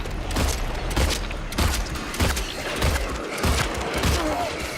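Pistol shots in Silent Hill 2, several loud single reports spaced roughly half a second to a second apart, each a sharp crack with a short boom against a low background.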